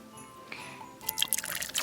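A small splash of grenadine syrup pours into a drink, a brief liquid trickle and drip with faint clinks, quiet and close, ending in a few bright splashy spatters.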